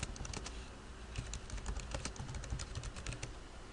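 Fingers type an activity name on a computer keyboard, a steady run of close, light key clicks over a constant background hiss.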